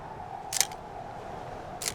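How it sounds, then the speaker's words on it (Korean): Two quick mechanical camera shutter clicks, the first at a little past half a second and the second near the end, over a quiet hum of outdoor mountain air. "그녀는 다른 관광객들과 함께 아이거에 올랐고 연신 셔터를 눌렀습니다"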